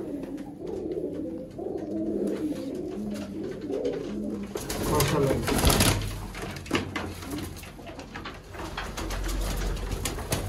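Sialkoti pigeons cooing: soft, low, rolling coos repeating near the start, then a busier, noisier stretch with rustling and scattered sounds from the birds.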